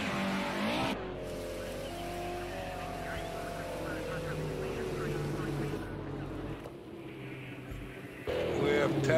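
Racing video game cars crash and spin out in a wreck at the start of a race, with engines roaring loudly and steadily throughout, a sharp squeal near the end, and a voice talking over the noise.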